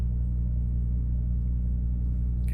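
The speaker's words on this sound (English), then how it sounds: "You can hear the reefer in the background." A truck trailer's reefer refrigeration unit runs steadily at a distance, a constant low droning rumble with a faint hum that holds unchanged throughout.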